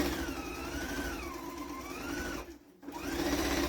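A Viking sewing machine stitches a quarter-inch seam, its motor whirring steadily with a rising and falling whine, then cutting out briefly before starting up again.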